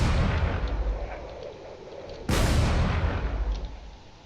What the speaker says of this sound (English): There's a lot of missiles over here being fired.